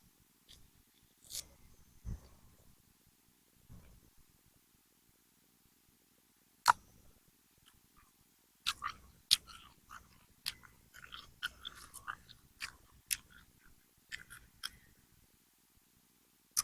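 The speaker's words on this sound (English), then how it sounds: "I promise I don't chew with my mouth open" Someone bites into and chews an orange close to the mic, giving sparse wet crunches and smacks with quiet gaps between, growing busier and more frequent in the second half.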